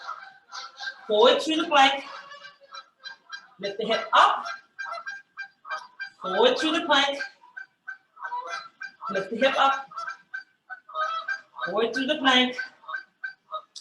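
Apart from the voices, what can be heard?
Canada geese honking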